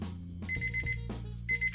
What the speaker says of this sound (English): There's our timer.